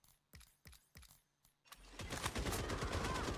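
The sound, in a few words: gunfire from a gun in the Rainbow Six Siege X video game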